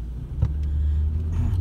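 A car drives along a road, its engine a low steady rumble close by, with a faint brief knock partway through and no voices over it.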